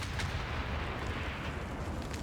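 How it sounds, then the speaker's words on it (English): Artillery fires in Civilization VI during a strategy match, a dense rumbling barrage of booms rolling continuously at full loudness, with deep low thuds and scattered sharper cracks throughout. "I can actually fire on Caguana with my artillery here"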